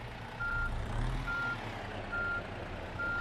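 A truck in the On The Road driving game reverses, its backup alarm giving four evenly spaced beeps over a low diesel engine rumble, moderately quiet, with no talk.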